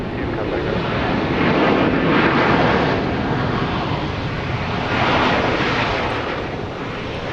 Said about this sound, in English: This plane just touched down, flight 671 from Albuquerque, New Mexico